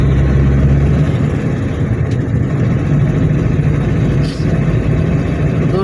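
Maruti Gypsy engine running steadily on a foggy drive, a constant low rumble filling the background with no clear changes in pitch.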